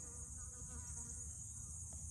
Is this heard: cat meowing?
no